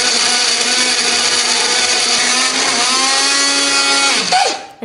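An electric blender whirs steadily at close range while grinding a spice paste with a little water or oil, a loud sustained motor drone whose pitch sags slightly before it winds down and cuts off.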